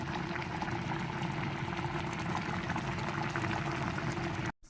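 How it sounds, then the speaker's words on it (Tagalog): Coconut milk simmering in a pot until its oil separates, a steady, dense bubbling hiss that runs unbroken at close range and cuts off abruptly near the end, with no voices. "Ayan, nagmantika na ang kanyang gata."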